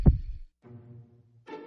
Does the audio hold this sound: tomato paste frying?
no